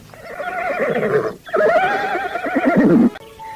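A horse whinnies loudly in two long, wavering neighs separated by a brief pause, the second call sliding downward at its end, with no voices over it.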